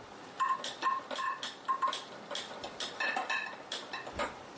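A kitchen gas stove burner being lit before frying fish on a tava, giving a rapid series of sharp, close igniter clicks with a faint metallic ring, and no talking.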